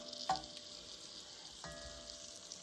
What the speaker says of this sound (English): brown this up in the skillet